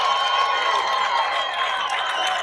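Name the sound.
baseball crowd cheering after a grand slam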